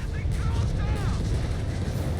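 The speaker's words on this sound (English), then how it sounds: "Assault grenades versus Rough Squad here, grenades being chucked." Grenades chucked at a squad in Company of Heroes 3 go off as a dense, rumbling barrage of booms and bursts under continuous battle noise, with other combat sounds layered throughout.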